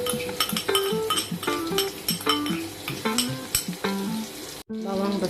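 Garlic, onion and sausage frying for Maggi goreng, a steady sizzle under repeated clinks and scrapes of a utensil stirring against the pan, close and busy.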